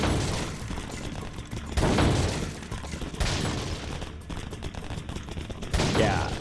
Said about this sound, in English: the shooting gallery in this game